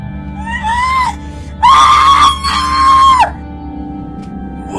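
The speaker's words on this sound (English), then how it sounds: "Why are you screaming when I haven't even cut you yet?" A shrill, sustained scream rises and breaks off, then returns louder in two long wavering bursts, close and piercing over a low hum.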